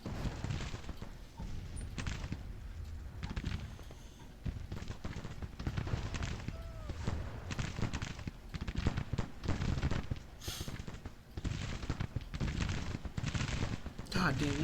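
Sustained musket and rifle fire in a Grand Tactician: Civil War battle, dense crackling volleys popping continuously and loudly, with a voice speaking over the din.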